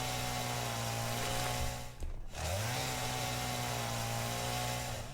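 A chainsaw in the video game Satisfactory cuts through mycelia, a steady buzzing engine drone that briefly cuts out and revs back up, with no talk.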